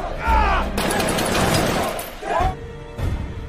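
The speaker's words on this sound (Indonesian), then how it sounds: "Fandi disuruh menembak seorang tahanan" Gunfire in an action film, with sharp bursts and a sustained rattle of shots amid crashing impacts, loud and close, with some vocal sounds between the shots.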